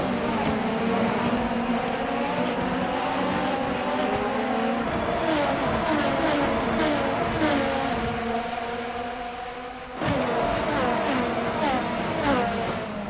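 Race cars in a racing video game at Tokachi Speedway, engines whining in overlapping rising and falling pitches as several cars pass close, with a continuous loud roar and a brief dip near the end.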